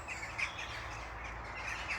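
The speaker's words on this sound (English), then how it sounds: "there's a lot of crows, and there's ravens up there as well" Crows and ravens calling among trees in Ravenswood, a few short faint caws and chirps at a distance over a low outdoor rumble.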